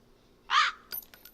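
A crow in the Nancy Drew game lets out a single loud, harsh caw, followed by a few brief clinking, jangling sounds.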